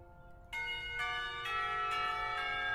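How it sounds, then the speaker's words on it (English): School bell in the visual novel game Katawa Shoujo, a series of about five bright, resonant chime strikes spaced roughly half a second apart, each ringing on and overlapping the last, moderately loud with no voices. "The school bell rings out"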